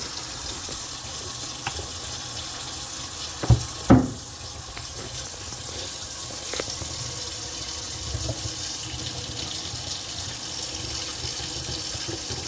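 Hot water runs steadily from a tap into a sink for washing a fire-damaged NES console, a constant hissing wash with a couple of brief clunks partway through.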